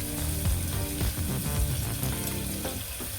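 Onions frying with turmeric in a pan for hyacinth bean palya, a steady, fairly loud sizzle with occasional stirring scrapes and faint background noise.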